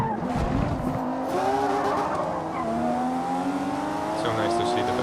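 A race car in Forza Motorsport screams down a high-speed straight with loud engine revs climbing steadily in pitch and tires squealing briefly, close and continuous, with talking faintly underneath.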